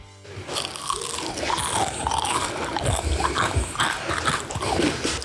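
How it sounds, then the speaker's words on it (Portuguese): Biting into a crunchy polvilho and cheese stick biscuit, biscoito palito mineiro, gives a close, loud crackle that runs into continuous crisp chewing and crunching for several seconds. "vou dar uma mordida aqui, ó, nessa pontinha aqui, só pra você sentir o drama da crocância desse biscoito"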